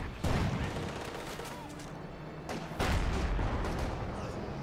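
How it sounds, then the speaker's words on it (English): Incendiary artillery fire in the game Company of Heroes 2, a dense, continuous rumble of blasts and crackling impacts with heavier booms near the start and midway, under a faint voice. "Now got more incendiary artillery."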